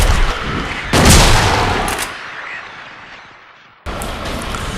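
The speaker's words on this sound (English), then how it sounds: "The shotgun is extremely powerful, but there's a delay in when James fires each shot" Shotgun blasts in the video game Silent Hill 2, fired by James, with a loud report, a second shot about a second later that decays, and another sharp blast near the end.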